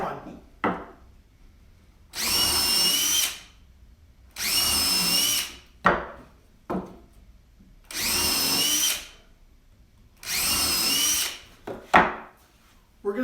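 A power drill pre-drills pilot holes in wooden shelf blocks, with four steady whining bursts at a regular pace. Short knocks and handling clatter fill the gaps between bursts.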